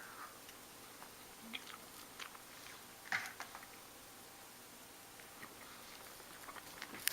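Close, quiet chewing of a lime-flavored sweet with green icing: soft, irregular crunches and mouth clicks scattered through a hushed room, with a slightly louder bite near the middle.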